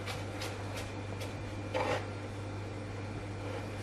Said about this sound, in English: we're going to finely slice all the way down